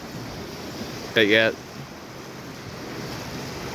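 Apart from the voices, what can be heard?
waves on the Lake Superior shore at Artist's Point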